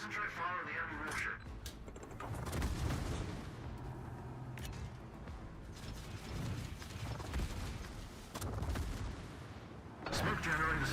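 Naval guns firing on an enemy warship in a naval combat game, heavy booming shots and rattling mechanical clatter recurring across the span, with a voice talking over the gunfire.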